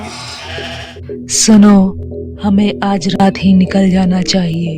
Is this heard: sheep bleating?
yes